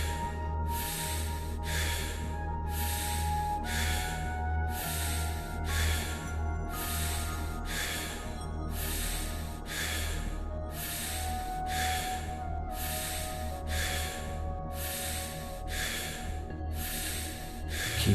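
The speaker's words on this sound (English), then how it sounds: "Just keep the breathing constant and connected." Steady, connected breathwork breathing over a sustained low background tone, each inhale and exhale strong and close, repeating in an even, continuous rhythm with no talking.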